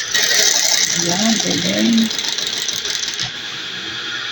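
A neighbour's newly repaired sewing machine runs with a steady, close mechanical whir; a voice speaks briefly over it early on, and the motor noise eases down near the end.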